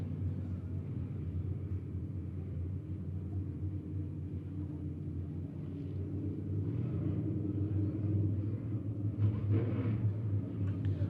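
Midwest Modified race cars run a heat on the dirt oval at Monett Raceway, a continuous low engine rumble from the distant pack that swells slightly toward the end.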